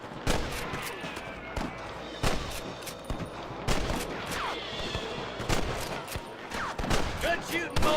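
Rapid bursts of gunfire crackle through a shootout with rustlers in the video game Red Dead Redemption, with repeated loud shots, some in quick volleys, over a steady background rumble.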